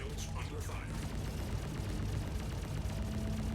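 Retaliator ship turrets fire continuously in Star Citizen, a dense, steady stream of rapid shots layered over a low engine drone, loud and unbroken throughout.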